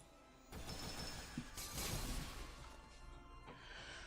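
Magic bullets fired by Aoko in the game Witch on the Holy Night, a faint burst of sharp crackling impacts and a splintering crash that flares up and fades over a few seconds, no talking.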